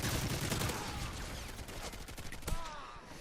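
Dense, distant-sounding gunfire from a video game shootout, overlapping shots from several directions forming a steady crackling fusillade with a few sharper reports, faint overall.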